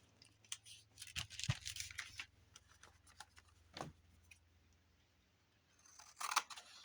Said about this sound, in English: Cut off this edge where it didn't get embossed.